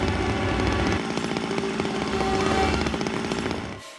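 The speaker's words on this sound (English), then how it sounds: "you're going totally nuts with that chainsaw" A chainsaw revs loudly and continuously in a horror video game, a buzzing rattling drone that dips briefly then surges again before cutting off abruptly near the end.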